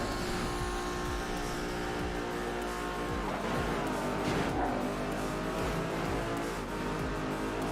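A car racing flat out on a highway in Midnight Club 3 Dub Edition Remix, engine roaring steadily with tyre squeals, whooshes of traffic being passed and shifting revs throughout.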